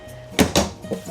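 Bathroom cabinet doors in a fifth wheel camper swing and knock shut, two distinct close thumps in quick succession followed by a lighter tap.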